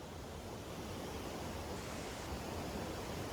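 A lively brook in Padley Gorge rushes over rocks as a steady, dense hiss of flowing water, close and continuous with no voices.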